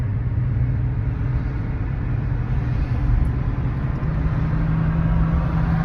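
Steady engine hum and road rumble from inside a car being driven on an American road, a constant low drone with tire noise throughout, no pauses.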